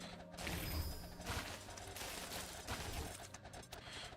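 A beam weapon fires in the Gemcraft video game, giving a faint, continuous stream of rapid crackling, ratcheting mechanical bursts with no talk over it.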